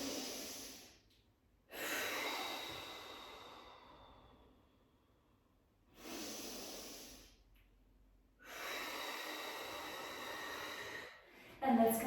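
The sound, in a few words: deep breath in through nose, exhale through mouth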